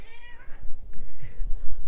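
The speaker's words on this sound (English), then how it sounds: "This is my darling kitty. She says hello." A pet cat, a female house kitty, meows a few times close by, her short calls rising and falling against faint room noise with no talking.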